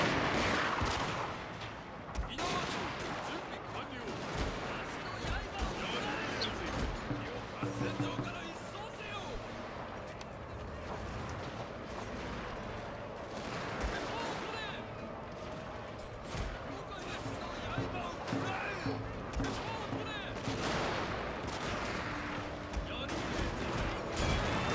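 Troops in the battle game Total War: Shogun 2 fire in dense, crackling volleys, with continuous battlefield noise and someone talking over it.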